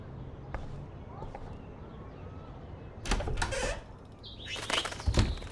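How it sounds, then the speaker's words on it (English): Wings of a small bird trapped indoors flap in a few brief, fluttery bursts, the loudest near the end, over a quiet background hum in the Life is Strange video game. "Oh no, that poor little bird has been trapped in here."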